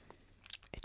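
Close, quiet crunching and chewing of monster marshmallow cereal in a few irregular bites, soft mouth sounds building to a louder crisp crunch at the end.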